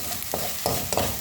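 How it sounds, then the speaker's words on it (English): Omena fish fry in a sufuria pot with a constant bright sizzle, while a spoon scrapes from the bottom in three rhythmic stirring strokes, close up. "Nageuza right from the bottom of the sufuria, stirring my omena."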